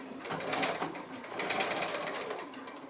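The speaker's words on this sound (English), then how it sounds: "So I'll go ahead and I'll stitch this piece down." A sewing machine stitches a fabric face mask in a quilting setting, its rapid mechanical chatter running in two bursts with a brief slowdown between, fairly close and without talk.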